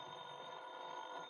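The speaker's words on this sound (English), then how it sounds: "the phone rang" Telephone ringing in an old-time radio detective drama, a steady electronic ring held at low volume through a brief moment with no talk.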